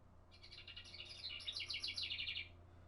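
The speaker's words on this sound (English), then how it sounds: "There's my bird clock." Indoor bird clock playing a house wren call: a rapid bubbling run of high chirps lasting about two seconds, moderately close, over a faint low hum with no talking.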